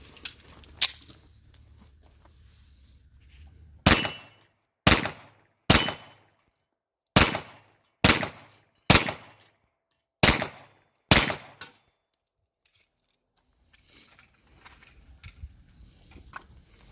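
Nine sharp, loud gunshots in a steady string from a Ruger SR1911 Lightweight Commander .45 ACP pistol firing 230-grain ball ammunition, each crack decaying quickly into quiet gaps, with faint background noise afterward.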